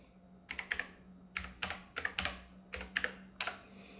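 A sudo password is typed on a computer keyboard: about a dozen crisp, close key clicks come in short irregular bursts over a faint steady hum, with no voices.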